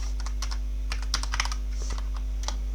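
Fingers type on a computer keyboard in quick irregular bursts of clicks over a low steady hum, close and fairly clear, with no one speaking.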